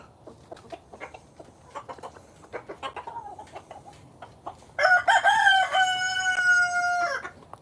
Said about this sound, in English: I like this chicken a lot.